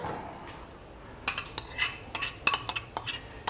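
A spoon stirs and knocks against a pot while a lentil stew base sautés, giving a handful of sharp metallic clinks and scrapes, close and moderately loud, spaced irregularly in the second half.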